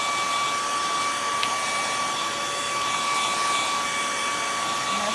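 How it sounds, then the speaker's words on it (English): A hair dryer blows steadily and loudly at close range, drying chalk paint, with a constant whining hum and airy rush throughout and no talking. "I'm going to give this a little bit more blow dry time."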